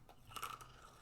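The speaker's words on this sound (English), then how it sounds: "You could hear the crunch." A mouthful of stale food is crunched in a few brittle bites, close and fairly quiet, with no talking over it.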